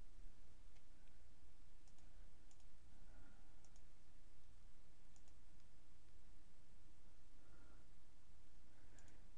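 Sparse, light mouse clicks while captions are edited in MovieCaptioner on a computer, a few soft ticks scattered over a steady low hum, no voices.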